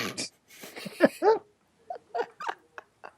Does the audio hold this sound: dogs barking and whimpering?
yes